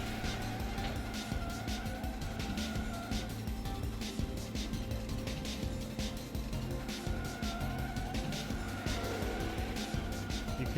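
Car drifting in the Slipstream racing game, engine droning steadily while tires skid and squeal in repeated bursts, moderately loud and continuous throughout with no talk.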